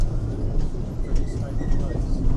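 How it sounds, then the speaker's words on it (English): Rio Grande ride train at Paultons Park rumbling along steadily from a seat at the back of the train, a continuous low mechanical drone with faint squeaks, heard outdoors on a winter day. "Here we go on the Rio Grande then, right at the back of the train."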